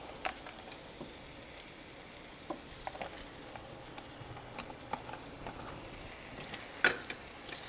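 Browning food is stirred around a frying pan, giving a soft, steady sizzle broken by quiet scraping clicks and taps at irregular intervals, with one sharper knock near the end.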